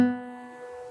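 A single guitar B string plucked at its normal pitch rings out cleanly, a brief bright tone decaying quickly, alone and close.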